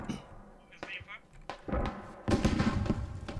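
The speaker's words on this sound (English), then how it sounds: "Rockets being attempted to be exploded right now against Sweet Ducky" Rockets exploding during a Squad tournament match, a series of booming blasts and thuds building from scattered hits to a dense, loud cluster near the end, with voices in the mix.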